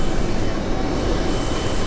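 Airplane engine roar, a broad steady rumbling wash, loud and close as it passes overhead, with no voices.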